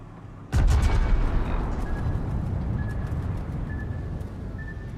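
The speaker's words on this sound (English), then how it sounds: "then I'll fire the last turret" A naval turret gun fires with one sharp, loud boom in World of Warships, and a dense rumble and naval combat noise carry on steadily after it.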